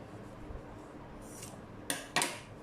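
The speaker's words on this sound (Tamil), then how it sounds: "இப்படி கத்திரிக்கோலை உள்ளே விட்டு இதை கட் பண்ணணும்." Scissors slipped inside a fabric shoulder fold to cut it open, two crisp snips near the end after soft quiet rustling, close and fairly faint.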